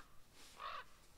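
A single crow caws once, a faint, distant call standing out against low, steady outdoor background noise.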